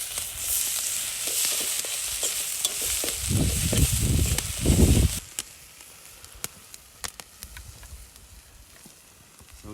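Mushrooms frying and browning in a pan at a backcountry camp cookout, a steady close sizzle with stirring scrapes that swell loudly midway, then settle into a quieter crackle with scattered ticks.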